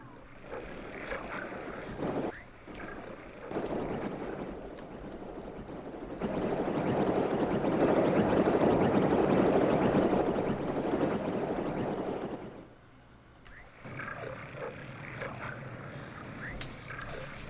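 A submarine engine running at quarter power in the Seawolf video game: a dense, steady rumble swells up for about six seconds mid-clip, framed by quieter, textured ambient sound before and after.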